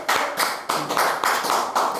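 Hands clap in a quick, even rhythm, roughly eight sharp claps in two seconds, close and fairly loud with no other sound.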